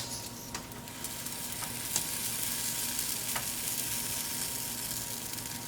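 Blini batter frying in a hot pan, a steady close sizzle with occasional faint clicks and scrapes on top, no talking.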